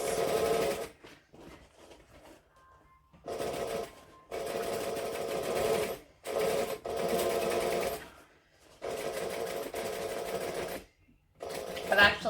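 Sewing machine runs in several separate bursts while stitching a vinyl bag along its piping, a fast rattling needle whir that starts and stops with short pauses between runs, close and clear.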